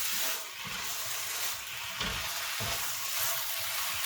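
Chicken pieces sizzle and fry in a pan for chicken and vegetable pasta, a steady loud hiss with faint stirring scrapes throughout and no talking.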